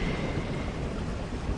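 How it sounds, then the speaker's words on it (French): Heavy rain pours down in a steady, dense wash of noise with no breaks, loud and close around a shelter. "il pleut tellement fort que je me suis arrêtée dans un abri"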